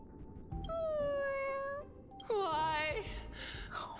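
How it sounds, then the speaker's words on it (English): A cat meows twice in Honkai: Star Rail, a long plaintive meow followed by a wavering, crying meow, loud and close, with a faint voice underneath. "This is Blade's cat too"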